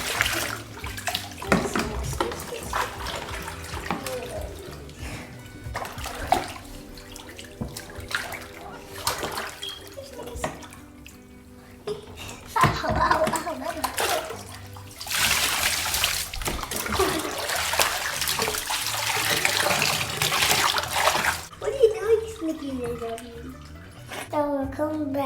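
Water splashes and pours from a bucket over a puppy at bath time, in bursts of sloshing and trickling that run through most of the scene, with a strong hissing gush midway, under a child and an adult talking.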